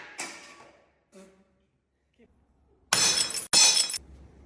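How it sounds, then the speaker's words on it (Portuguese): A safety-film-laminated glass shower screen is struck hard on its corners until it breaks, first with scattered knocks and clinks, then two loud, close shattering crashes in quick succession that end abruptly. "o vidro quebra, mas ele fica todo preso aqui pela película"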